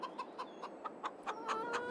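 A chicken on a farm in Farming Simulator 22 clucks in a string of short, evenly spaced calls, moderately close and clear with no talk.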